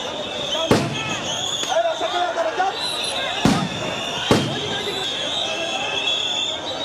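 Sound grenades fired by police to clear protesting teachers from Shahbag in Dhaka, heard as three sharp, loud bangs spaced a few seconds apart over a steady crowd hubbub with a persistent high whine.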